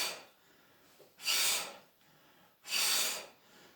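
Two strong breathy exhales, evenly spaced about a second and a half apart, as a person rises during a bodyweight workout exercise; close and clear, with quiet breathing between them.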